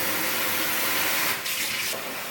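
Tap water rinsing a cleaned rainbow trout, a continuous close splash and hiss of running water with a short change in the flow midway.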